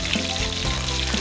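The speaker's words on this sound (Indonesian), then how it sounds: "aku menggoreng daging ikannya pertama, setelah matang baru menggoreng durinya" Tilapia fish meat frying in hot oil, a dense, steady sizzling crackle heard up close and loud, with no voices.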